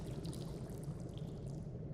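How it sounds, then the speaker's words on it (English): Water trickles in a room while a river rushes outside, muffled; a steady, dense wash of flowing water with no pauses and no voices. "the only sound in the room is the trickling of water and the muffled rush of the river outside"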